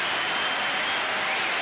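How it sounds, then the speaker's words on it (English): A sold-out stadium crowd at a Dunfermline versus Manchester United pre-season friendly gives steady, warm applause, a dense, even roar of clapping with no voices standing out. "he's getting really warm and generous applause from the sold-out crowd here"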